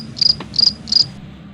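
Three crisp cricket chirps indoors, each a quick trill of rapid pulses at an even pace, with no talking.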